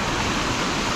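Mountain stream in the Kailash Valley of Chitral rushing continuously as steady broadband water noise, close and loud, with no voices.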